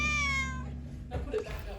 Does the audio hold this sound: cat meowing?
yes